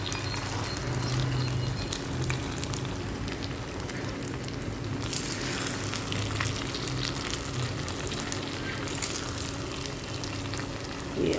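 Food sizzles and fries steadily in a kadhai as it is gently turned, a dense continuous crackle with a louder hiss partway through and faint stirring scrapes, no voices.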